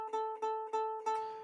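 A ukulele G string is plucked four times in quick succession, each note ringing clearly and close, the last one left to sustain briefly as it fades.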